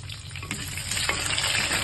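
Small shallots and crushed garlic cloves sizzle in hot oil while being stirred, a close, steady fry with a few light scraping stirs.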